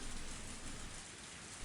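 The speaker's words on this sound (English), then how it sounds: "Even this torrential rain." Torrential rain pours in a dense, steady hiss, loud and unbroken, with a low rumbling undertone.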